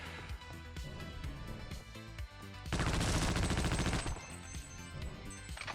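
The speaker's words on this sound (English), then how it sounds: "It's funny when I fire this gun" Video game gunfire: one loud burst of rapid automatic shots lasts about a second and a half, set against a steady game soundtrack with music-like tones before and after.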